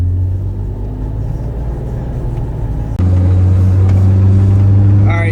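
A Honda S2000 with newly changed fuel injectors drives along, its engine a steady low rumble that jumps louder midway as the car accelerates, with a faint higher whine near the end.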